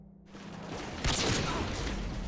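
A CheyTac M200 Intervention sniper rifle fires in Modern Warfare 2, a single sharp, loud shot with a booming tail over a steady low game hum.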